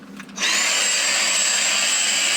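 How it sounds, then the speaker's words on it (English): A Hoover vacuum cleaner with a small brush attachment switches on after a brief click and then holds a loud, steady whine close by, cleaning an Xbox One console. "Then I'm going to grab my Hoover."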